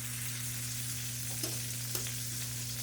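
A whole stick of real butter sizzles over low heat in a pan with fresh chopped garlic, a steady soft frying hiss with a couple of faint stirring clicks and a low constant hum underneath.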